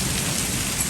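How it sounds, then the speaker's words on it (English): A heavy rainstorm pours down in a constant dense hiss, with a low rumbling roll of thunder running beneath it. "Thunder."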